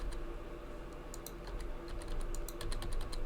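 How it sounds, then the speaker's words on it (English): Fingers tap out quick, light clicks while typing on a phone, in irregular clusters against a quiet room hum. "I'm typing with my phone because my keyboard broke."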